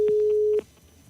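A telephone line on a live call-in show drops out: a loud steady electronic tone holds for about half a second, then cuts off abruptly into faint line noise.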